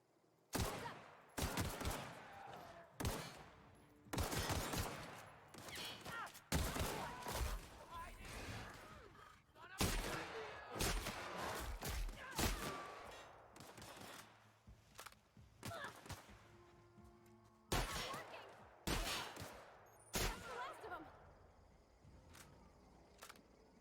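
Shotgun blasts in The Outer Worlds, a long sequence of sharp, loud bangs at irregular intervals amid other combat noise, with a voice speaking faintly in between.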